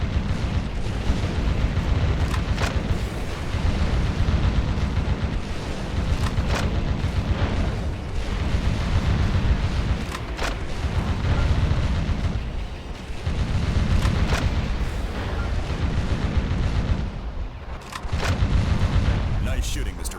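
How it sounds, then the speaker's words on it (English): Shooting and explosions in the video game Metal Wolf Chaos: dense, continuous gunfire and booming blasts that keep coming, loud and close, with sharp bursts standing out. "Nice shooting, Mr. President."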